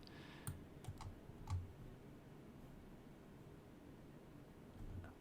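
A computer keyboard is typed on faintly, with a handful of scattered soft key clicks over a steady low hiss.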